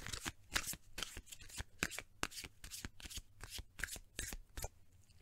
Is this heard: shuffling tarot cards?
yes